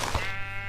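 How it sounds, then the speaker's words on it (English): A single bleat from a white sheep in a video game, a short close call that fades out within a second. "I need a white sheep"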